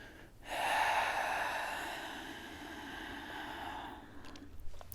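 A single long, breathy exhale rushes out close to the microphone during gentle desk yoga stretches for neck and shoulders, preceded by a short intake and fading into quiet rustling.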